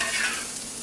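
Onions sizzle in a pot while being stirred, a brief dense crackle with a soft scraping texture.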